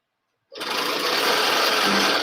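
After a moment of silence a sewing machine starts stitching a leggings waistband, a loud, close, continuous rapid whirring hum that holds steady to the end.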